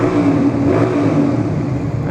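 A motorcycle engine fitted with a timing retard mod revs loudly up close in one sustained, throaty pull with a steady growl and no voices.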